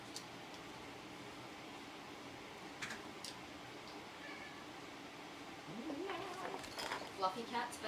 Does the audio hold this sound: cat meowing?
yes